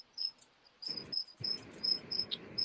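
Crickets chirp in short, high, regular pulses close by and fairly quiet, with soft rustling and scratchy movement underneath after the first second.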